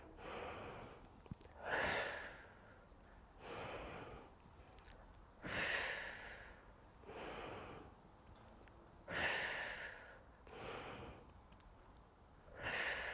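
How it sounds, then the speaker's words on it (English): Slow, deliberate breaths in and out during a gentle postnatal warm-up, each inhale and exhale clearly audible and close, repeating in an even rhythm of roughly one full breath every four seconds. "Breathing in to reach up, breathing out to come down."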